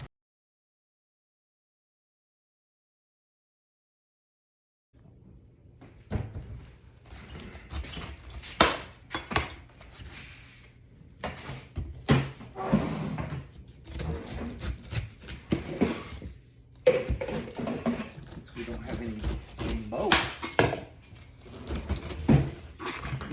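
A knife cuts through a whole pineapple that looks past its best, giving repeated scraping, crunching cuts and rustling handling close by. Silence comes first, then several seconds of steady cutting.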